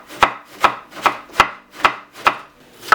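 Washed cabbage is sliced on a board for sauerkraut, seven crisp, close knife chops landing in an even rhythm about every half second with no talk.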